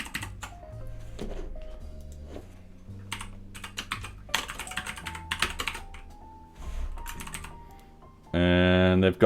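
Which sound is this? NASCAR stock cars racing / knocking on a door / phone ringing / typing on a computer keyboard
typing on a computer keyboard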